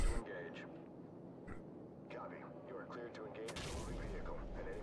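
Gunfire rattles in Call of Duty 4: Modern Warfare, quiet scattered shots and bursts under a low game rumble, with a voice talking over it.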